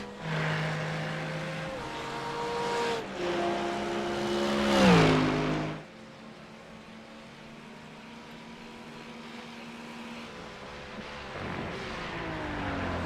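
GT3 race cars, including an Aston Martin, roar past in a sim racing event at Barcelona: a loud engine note climbs and drops through gear changes, then a fainter car holds a steady drone before another approaches.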